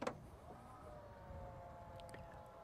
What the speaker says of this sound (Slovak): Vo výbave nájdeme aj elektricky ovládané kufrové dvere